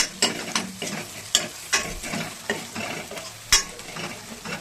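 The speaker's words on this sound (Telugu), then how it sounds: "ఇది పింక్ కలర్ వచ్చాక మనం కట్ చేసుకున్న బెండకాయలు వేసేద్దాం." Cut okra (bendakaya) fries in a pan with a steady sizzle while a utensil stirs it, scraping and clacking at irregular moments, close by and with no talk.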